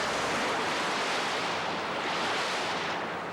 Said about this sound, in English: much like these churning river waves